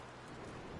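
Steady, dense rain of a storm in the video game Red Dead Redemption 2, an even wash of drops falling close and constant with no breaks.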